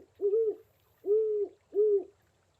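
A large owl in the video game Colossal Cave 3D calls three times in a steady rhythm, each hoot low, smooth and sustained, evenly spaced against a quiet background.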